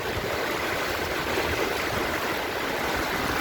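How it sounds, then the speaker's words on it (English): A strong current where a rainforest river flows into the ocean on a Puerto Rico beach, a steady dense rushing wash of water that holds close and loud throughout with no break. "Not too many spots like this in the world where the rainforest river meets the ocean."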